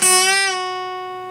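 A single guitar note on the E string is bent up a half step and then released, ringing out clearly and decaying smoothly over about a second, with no other sounds.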